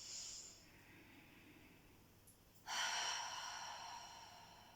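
A long, deep breath pushed out slowly during a do-in breathing exercise: a soft, close airy hiss that rises suddenly, then fades steadily over about two seconds after a quieter breath, with no speech.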